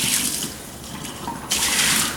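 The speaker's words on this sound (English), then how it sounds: "I'm going to pour just a little bit of this off because this boils up on you." Water pours off a pan of boiling water into a kitchen sink, a steady splashing rush that eases briefly and then surges again near the end, with no talking.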